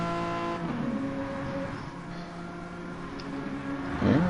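Race car engines on a circuit, a steady loud droning whine holding pitch, with a brief rising surge near the end as cars accelerate past.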